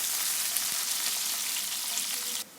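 Onions fry in hot ghee, a dense, steady sizzle close up that holds evenly and then drops away abruptly at the end.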